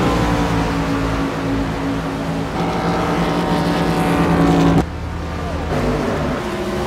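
Several race car engines drone loudly and continuously at an oval-track sportsman series event, pitch shifting as cars slow and come down pit road, with a sharp drop in level partway through.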